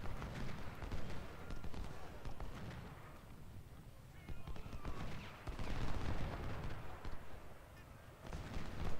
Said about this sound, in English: MacArthur is coming under heavy fire from almost all sides.